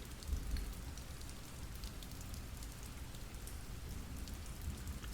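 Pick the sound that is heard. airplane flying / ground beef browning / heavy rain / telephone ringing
heavy rain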